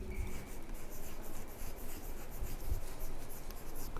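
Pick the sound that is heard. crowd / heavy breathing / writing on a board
writing on a board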